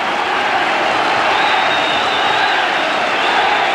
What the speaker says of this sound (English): the crowd totally enthused at this Wigan fight back